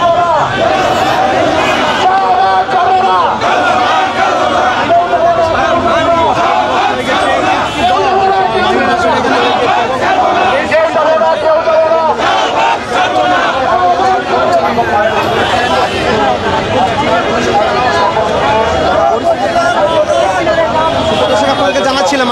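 BDR protesters gathered at the Shahbag intersection raise a loud, continuous crowd roar of overlapping chanted slogans and shouting voices. The din stays dense and steady from start to finish, with no single speaker standing out.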